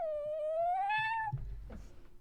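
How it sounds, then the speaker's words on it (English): A cat gives a single long, clear, rising meow, close and loud, followed by a few soft thumps and rustles, with no talking. "We have a kitty."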